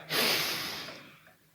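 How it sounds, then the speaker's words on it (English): An audience at a motivational talk drawing a deep breath together, a single broad airy inhale that rises sharply and slowly fades, soft and diffuse. "take a deep breath"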